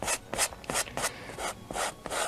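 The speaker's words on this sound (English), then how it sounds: "Push that paint right into the fabric." A brush scrubbed hard against canvas fabric, working paint into it in quick rhythmic strokes, seven or eight close, dry rasping rubs at an even pace with no voices.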